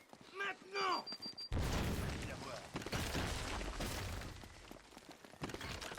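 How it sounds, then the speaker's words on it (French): Gunfire in the video game Uncharted: a burst of dense shots and booming impacts breaks in after a short spoken exchange and continues in a loud, busy barrage of repeated cracks. "Je sais même pas d'où ça tire."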